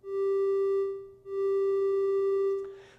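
A synthesizer plays a steady sustained tone with a slow, soft attack, fading in gently twice in a row, clean and moderately loud, then trailing off into a brief noisy burst.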